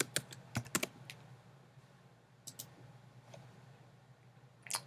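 Bursts of keystrokes on a computer keyboard as a file name is typed, quick clusters of clicks with pauses between, close by and moderately loud over a low steady hum.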